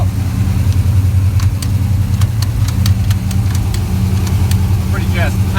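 A car engine fitted with an S1 sequential shifter and Monster clutch, running at a steady low rumble at high gear, with sharp ticking clicks over it and a voice speaking.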